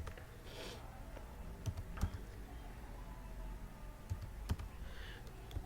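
Keys clatter on a computer keyboard as an NTN number is typed, with scattered taps and a few sharper clicks over a low steady hum.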